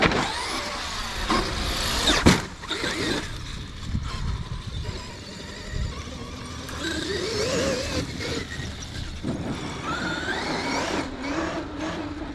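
Traxxas X-Maxx 2.0 RC monster truck passing close by after a hard jump, its electric motor whining and varying in pitch over rough ground, with a thump at landing.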